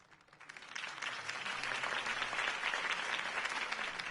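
A crowd applauds in a Batman video game, a steady wash of clapping that fades in over the first second and then holds evenly, somewhat distant and soft.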